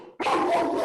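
Harley, a pet dog, lets out a burst of loud, close barking after a moment of near silence, one sustained rough bark filling the rest of the moment.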